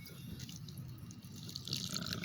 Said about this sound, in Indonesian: Kemudian baru kita siram dengan air ya.